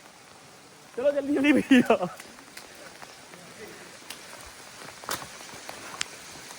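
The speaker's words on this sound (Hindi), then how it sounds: "भागो बारिश में भागो, ओले पड़ रहे हैं यार" Rain mixed with small hail pattering steadily on surfaces around someone running outdoors in the Falkland Islands, a dense wash of soft drops with occasional sharper ticks, while someone briefly speaks near the start.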